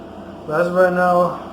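An air conditioner runs steadily in the background as a low, constant hum with a faint whine, present before and under a man's brief spoken remark.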